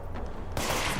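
Gunfire from an enemy in the game Control, a dull rumbling stretch that suddenly breaks into a loud, sustained burst of shots lasting about half a second.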